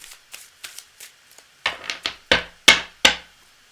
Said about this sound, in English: I'm going to shuffle a little bit more